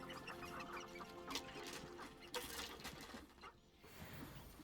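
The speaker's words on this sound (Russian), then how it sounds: "Тут эти курицы-разрушительницы несутся, все ломают на своем пути." Chickens clucking in the video game Hogwarts Legacy, with steady busy clucks over a constant game ambience and no talk.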